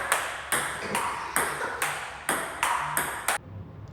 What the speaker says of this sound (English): I was playing ping pong with my cousins, and the sound of the balls was interesting